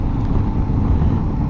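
Motorcycle riding on pavement with a fully off-road knobby front tire and an 80-20 rear tire, giving a steady, loud, continuous rumbling road roar with engine drone throughout, and no voices.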